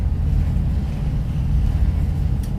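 The engine of barge CCL-9 bound for Freeport, Texas, gives a deep, steady low rumble with wind and water noise over it, loud and constant throughout.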